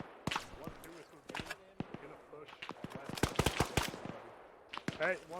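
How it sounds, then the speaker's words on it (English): Gunfire in the military shooter game Arma 3: sharp cracks and short bursts of shots at varied distances, irregular and scattered, with voices talking between them. "Where the fuck are those shots coming in from?"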